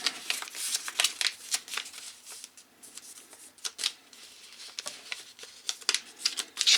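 A sheet of paper is creased and folded into a Katana origami airplane, giving close, crisp crinkles and sharp rustling bursts in an uneven rhythm with no talking.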